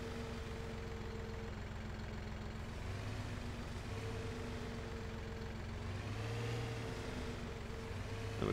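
A tractor engine in Farming Simulator 17 idles and runs at a low, steady drone with a faint hum throughout, fairly quiet and without talk.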